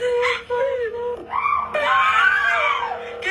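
A friend screams in long, wavering, high-pitched wails that rise and fall over about three seconds, loud and close, breaking briefly before a sustained piercing cry.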